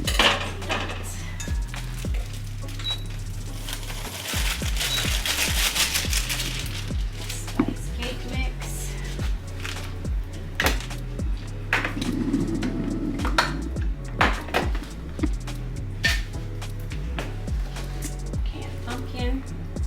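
An egg and two other ingredients for an easy pumpkin spice recipe are stirred together in a bowl, with continuous scraping and clinking of a utensil against the dish under a speaking voice and background music.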